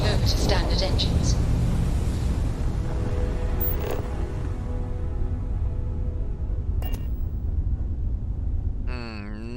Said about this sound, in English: Switching over to standard engines.